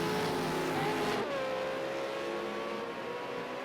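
A V8 Supercar race car runs round the Ruapuna Park circuit while struggling with its tyres, its engine droning steadily and shifting pitch as it works through a corner. Other cars can be heard in the background.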